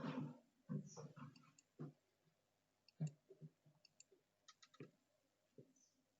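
Mouse clicks in a population dynamics simulator, a series of soft, quiet, separate clicks at irregular intervals with gaps of near silence between them.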